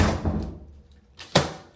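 A heavy room door being opened, a single solid thunk near the end after a quiet pause, preceded by faint shuffling and a soft knock, close by.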